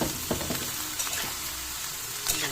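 Lumpia spring rolls filled with bean sprouts frying in hot oil, a steady broadband sizzle with occasional pops and crackles, close and fairly quiet, no voices.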